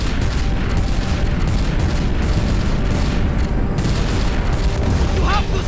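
Weapons fire and heavy explosions rage during a battle against a Celestial in a Telltale Guardians of the Galaxy game, a dense, continuous wall of booming blasts and rumbling impacts that never lets up.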